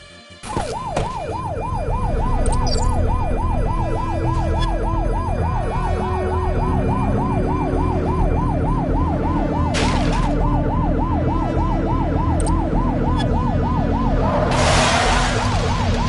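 Police sirens wail in a steady, rapidly repeating rise-and-fall cycle throughout a pursuit in the video game The Precinct, loud and continuous over a constant engine rumble, with a brief burst of noise near the end.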